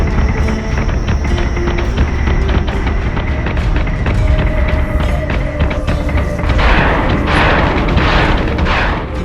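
Ship guns fire in the video game Battlestar Galactica: Deadlock, a loud, continuous barrage of booming, thudding shots with crashing impacts that swell near the end.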